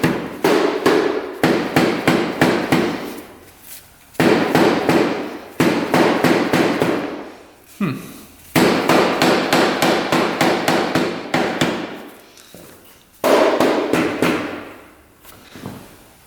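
Repeated hammer blows on a part of a Honda TRX 700 ATV, loud and close, struck in rapid bursts of metallic whacks with short pauses between the runs.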